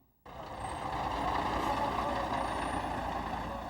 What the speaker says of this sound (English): The refugees came through in 11 covered trucks.